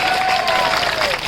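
A crowd at an outdoor political rally claps in a dense, steady burst of applause heard up close, with a faint tone running underneath.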